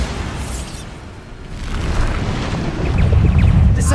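A Bombarda explosion spell cast during combat in Hogwarts Legacy, heard as a loud, deep rumbling blast that swells over several seconds into a heavy low-end roar with airy, wind-like noise, with no voices.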